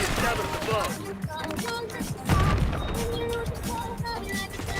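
Gunfire in Call of Duty, dense and busy with repeated shots and impacts throughout, a heavier burst near the middle, mixed with game noise and some voice.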